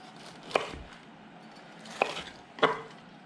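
A knife slices through a crispy fried pork chop, giving three crisp, crunchy cuts spaced about a second apart, close and clear with nothing else around them.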